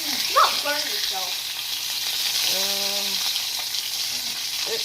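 Bacon sizzles and crackles steadily in a pan turned down to medium, a dense continuous fry with a few brief scraping or stirring touches on top.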